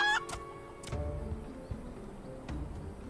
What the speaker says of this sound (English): It's a green chicken.